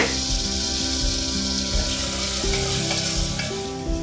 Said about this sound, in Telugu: చూస్తున్నారా, ఇలాగా ఫ్రై అవ్వాలండి.